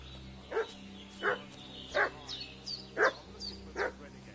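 A dog barks repeatedly in Kingdom Come Deliverance II, five or six sharp, evenly spaced barks at moderate distance over a low ambient drone, with no speech.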